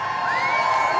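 A big political rally crowd in Wilmington, North Carolina cheers and whoops steadily, a dense roar of many voices with shrill shouts rising above it, continuous and loud throughout the brief moment.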